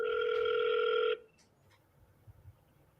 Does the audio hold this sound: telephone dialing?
yes